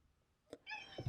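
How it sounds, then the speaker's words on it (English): A house cat lets out a single drawn-out meow up close, preceded by a short sharp tap and followed by low thumping, with no talking. "My cat's meowing"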